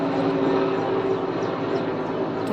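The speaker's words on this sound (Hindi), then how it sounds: "यहाँ पे एक हेलीकॉप्टर पानी ले जा रहा था" A helicopter carrying water toward a forest fire passes overhead with a steady, broad rotor-and-engine roar that holds loud and constant throughout, with no voices over it.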